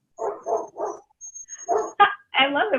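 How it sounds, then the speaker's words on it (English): A dog barks in the background during an online webinar: a quick run of three barks, a pause, then a further burst of sharper yips and barks, moderately close and fairly loud. "I love that we have a dog in the background."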